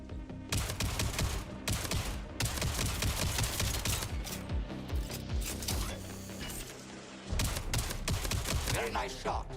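Rapid pistol shots in the video game Jump Space fire in quick bursts with short pauses between them, loud and close over game sounds and clatter.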